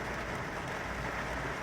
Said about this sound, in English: See, it's raining now.